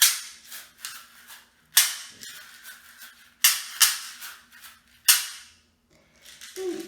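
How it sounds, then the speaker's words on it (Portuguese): A caxixi woven basket shaker is played in sharp bursts, with several loud, crisp rattling shakes spaced apart and fading after each, then a quieter stretch, close up with no talk. "Aqui eu trouxe também o cachixi, que produz esses dois sons."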